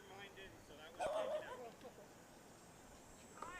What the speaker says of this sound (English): we had a dog barking right in the middle of the conversation